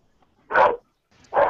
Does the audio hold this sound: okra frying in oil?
no